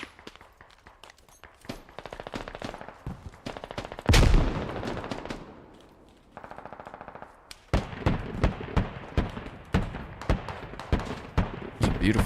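Explosion of a thrown grenade followed by repeated bursts of automatic gunfire in the military shooter game Squad, loud and close, with a heavy blast partway through and rapid firing resuming afterward.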